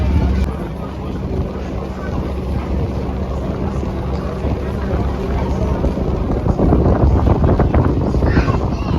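Boat cruising around a river island near the city of Engels by Saratov, with steady engine and water rush under heavy wind buffeting the microphone, continuous and loud throughout.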